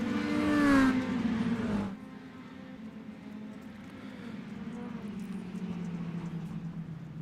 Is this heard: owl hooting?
no